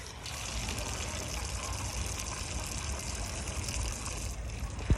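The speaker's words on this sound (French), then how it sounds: "De l'eau bénite." Holy water flows in a steady, soft trickle and gush, drawn at the basilica of Namugongo, a continuous wash with no voices over it.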